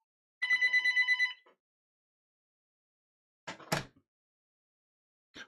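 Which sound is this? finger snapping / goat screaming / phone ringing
phone ringing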